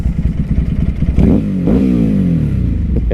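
A 2006 Ducati 749 BIP motorcycle engine pulls under way while riding, rising in revs twice with clear upward sweeps between gear changes, loud and close over a steady rumble.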